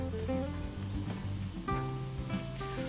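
Oyster mushrooms grilling in a pan brushed with a little oil give off a steady, continuous sizzle that stays close and even throughout, with faint tonal sounds in the background.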